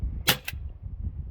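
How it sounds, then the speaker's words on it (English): A Crosman Vigilante CO2 air pistol fires a single BB, a sharp close pop with a quick second crack right after, then quiet room tone. "let's take another shot here, see what it does."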